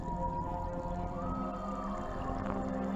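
Whale vocalizations at sea: low, drawn-out moans and a rising tonal call over a dense, murky background rumble, with a brief brighter squeal near the end.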